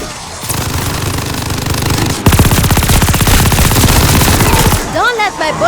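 Rapid automatic gunfire rattles in the video game Call of Duty: Vanguard, a loud sustained burst of closely spaced shots after a rumbling lead-in, ending with a short gap and faint voice-like sounds.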